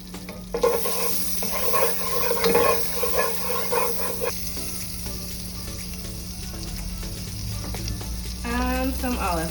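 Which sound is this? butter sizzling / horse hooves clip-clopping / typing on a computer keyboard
butter sizzling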